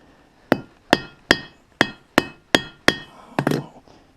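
Steady hammer blows ring out on a steel anvil as a rivet is set on a twine cutter handle, seven evenly spaced sharp metallic strikes followed by a rougher double knock, close and loud with no voices.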